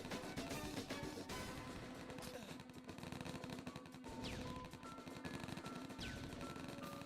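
Rapid gunfire from ranged units in Age of War, a dense, continuous crackle of shots running loud throughout amid busy game effects.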